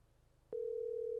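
A phone line tone during a call, a single steady low electronic hum that switches on abruptly and holds loud and unbroken against faint background noise.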